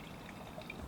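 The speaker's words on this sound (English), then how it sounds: "Pour a little bit there" A pour of 2014 Reserve Cabernet red wine into a glass, a soft, faint, continuous liquid trickle lasting about a second with no voices.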